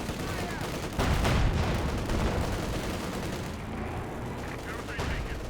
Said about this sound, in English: Paratroopers in fact close to getting wiped out by the machine gun fire and mortar fire.